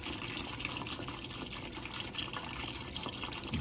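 Water pouring into a pot for a Daniel Fast vegetable soup, a steady, close splashing stream that runs continuously without a break, no one speaking.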